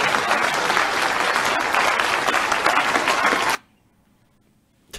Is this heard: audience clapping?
yes